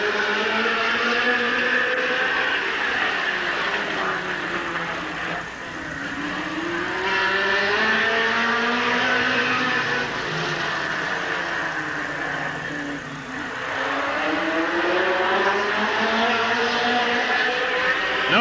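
Race cars at Midvale Speedway in 1988, a pack of engines roaring close and loud, pitch rising and falling in sweeping waves as the cars circle the track lap after lap.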